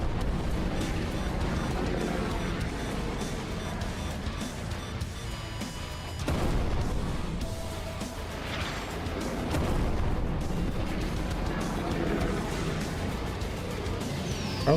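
Weapon fire in the video game Jawbreaker: dense, loud rolling blasts and crashes with a sharp break near six seconds, continuing as sustained booming impacts throughout.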